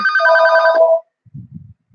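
A telephone rings loudly in one clear burst of bright electronic tones, with brief faint rustling afterward.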